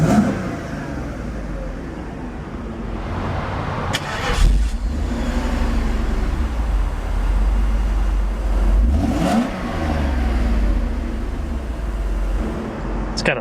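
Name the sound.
1991 Mercedes Benz 500SL Roadster engine and exhaust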